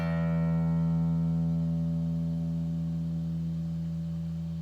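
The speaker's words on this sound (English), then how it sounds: "Let me try the low E string." Low E string of an electric guitar ringing out and sustaining alone, a steady harmonic-rich tone that holds for the whole stretch with only a slow fade and no attack or talk.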